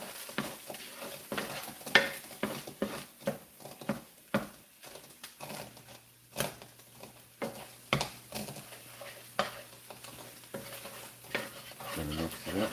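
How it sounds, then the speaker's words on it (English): Butter and sausage stirred in a frying pan, with a soft sizzle beneath rapid, uneven scraping and tapping strokes of the utensil, close and moderately quiet. "Now we got butter and sausage together. Gonna make a butter sausage baby in this bitch. Mix this all up together real good."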